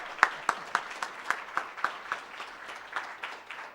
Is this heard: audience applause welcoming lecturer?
yes